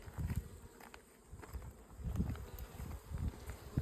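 Close, fluctuating buzz of many honey bees swarming around an opened hive colony, rising and falling in waves with faint rustling, no speech.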